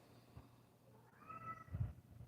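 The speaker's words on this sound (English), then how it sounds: "My cat is talking to me." A house cat gives a short, soft meow at close range, a single brief vocal call in an otherwise quiet room.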